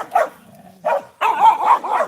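Several dogs bark nearby in loud, separate bursts: a short bark, a pause, another bark, then a longer run of overlapping barking.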